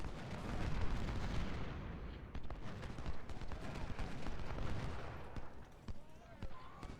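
Artillery fire in a First Battle of Bull Run Civil War game rumbles in dense, overlapping booms and crackling volleys, a heavy continuous barrage with a voice talking over it.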